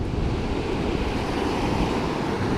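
Ocean surf on an Oregon beach, heard from out in the water: a constant, loud wash of breaking waves mixed with rumbling wind buffeting the microphone.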